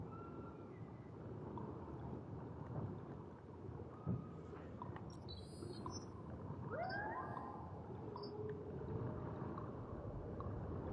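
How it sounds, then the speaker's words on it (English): A blue whale calls out at sea, low moaning vocalizations with a few rising and falling tonal sweeps, faint and distant over a steady wash of water and low rumble, no voices. "Sounds like there's a whale in the area."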